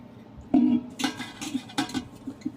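Clattering clinks and knocks of a flour storage container being rinsed and handled while washing it at home, close and irregular with several sharp hits, no talking.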